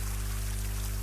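Stream water in a video game flows in a steady, full rushing wash with a trickling, pouring texture, close and even, with no voices.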